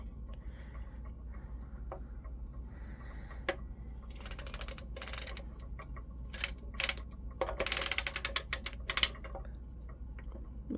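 Circular sock knitting machine cranked through a pass of mitten fabric, a quiet close train of mechanical clicks and ratcheting ticks that grows busier and louder toward the end.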